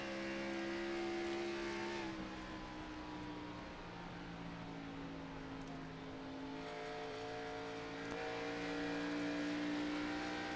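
A race car engine, a Camaro in an Xfinity Series race at Atlanta, drones steadily, its pitch dropping as the driver lifts off the throttle and then climbing again, loud and continuous with no talk.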